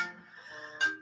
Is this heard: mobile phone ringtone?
yes